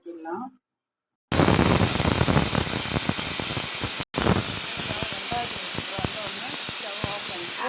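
A pressure cooker cooking banana stem and lentils whistles as it releases steam, a loud, continuous hissing shriek that starts abruptly after a brief voice and silence, breaks for a split second, then keeps blasting close up.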